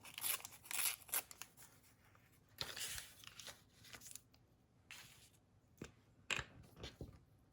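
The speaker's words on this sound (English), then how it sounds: "I'm going to tear this edge here," Paper tag edge torn by hand in a quiet room, a series of close, soft ripping and rustling bursts spread across the clip with short pauses between them.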